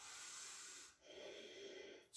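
Slow, steady breaths during a yoga exercise for digestion, a long airy exhale followed by another breath and a sharper intake at the end, close and quiet.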